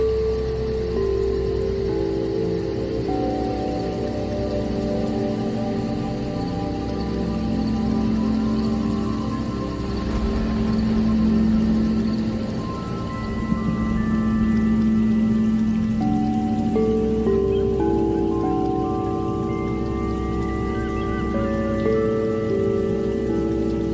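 Steady rain near Aapkhol waterfall in Bargarh, Odisha, a dense hiss of drops pattering on surfaces under a continuous low rush of falling water, loud and unbroken throughout.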